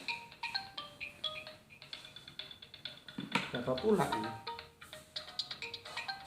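A phone ringtone plays as a repeating melodic chirp through the whole stretch, mixed under someone talking close by.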